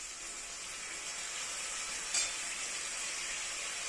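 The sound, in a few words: tomatoes added to frying onions and green chillies, sizzling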